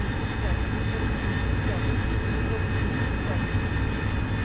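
Steady roar of a jet aircraft engine in DCS World, a broad continuous rumble with high whining tones, running at full power with nozzles moving aft, loud and unbroken throughout.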